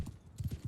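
Horses galloping in the video game Mount & Blade II: Bannerlord, a quick train of low hoof thuds in uneven bursts, moderately loud against a soft battle background.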